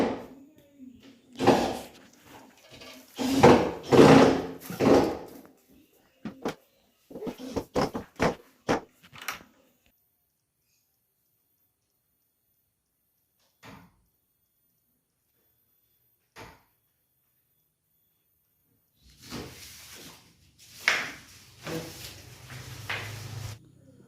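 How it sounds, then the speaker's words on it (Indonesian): Glass doors fitted onto a minimalist TV cabinet: a burst of knocks, clicks and handling thuds, then long quiet gaps broken by single taps, and a last scrape and clatter near the end, close and with no talk. "lanjut terakhir kita pasang pintu kacanya"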